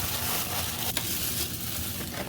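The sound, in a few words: mixing red beans and rice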